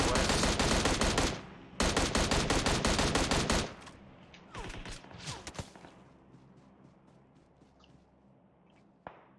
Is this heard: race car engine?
no